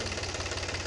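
A tractor-driven sugarcane crusher (charkhi) engine runs steadily, a low pulsing throb with a regular knocking rhythm, fairly close and continuous throughout.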